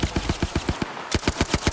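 Rapid automatic gunfire from a match in Apex Legends at an ALGS Year 6 esports playoff, two loud bursts of evenly spaced shots separated by a short pause, heard alone without talk.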